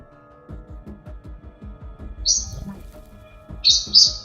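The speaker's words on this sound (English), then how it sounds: "the bird is having dinner behind me" A pet bird chirps a few times while eating, with short high tweets near the middle and end, set over a busy stretch of low clicking and tapping game sounds.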